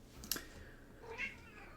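A cat meows behind a closed door, faint and muffled, with a brief click before it over quiet room hiss.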